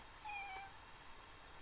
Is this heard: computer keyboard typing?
no